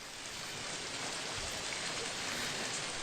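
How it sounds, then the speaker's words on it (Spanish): Rain falls steadily on a grey night, a dense, unbroken hiss of drops that stays even throughout with no other sounds. "el caer de la lluvia en una noche gris"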